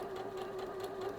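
A sewing machine stitching a quilt seam runs in a steady close whir with a constant motor tone, brief and unbroken.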